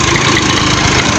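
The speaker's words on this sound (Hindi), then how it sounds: "और दो ट्रैक्टर आए हुए हैं, जोर लगा रहे हैं।" Two tractors straining hard to pull a fallen trolley by a roadside, producing a loud, continuous, close engine drone with a rough low rumble and steady vibration and no break.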